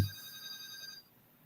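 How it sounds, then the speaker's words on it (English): A phone's electronic ringtone sounds steadily for about a second and then cuts off, fairly faint, with no talking. "That motherfucker's ringing my phone."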